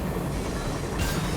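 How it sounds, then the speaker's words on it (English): Continuous rumble of a moving train in the video game Dead Rising 2 Off The Record, loud and steady throughout with a brighter hiss rising near the end, no talk. "Frank West managed to jump on a moving train"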